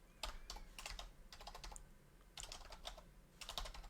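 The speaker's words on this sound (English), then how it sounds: "I'm going to type some commands here that might look familiar" PowerShell commands are typed on a computer keyboard in quick, clicky bursts separated by short pauses, close and fairly soft, with no talking.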